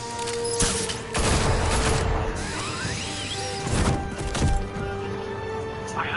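Gunfire aimed at Batman in the Batman Telltale video game: loud bursts of shots around 0.6 and 1.2–2 seconds, then more impacts near 3.8 and 4.5 seconds over a busy, clattering game mix.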